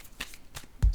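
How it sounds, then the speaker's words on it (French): A card is laid down on a table with a few light, quick flicks and taps, ending in a firmer, close thud as it lands. "Je vais déposer une carte ici."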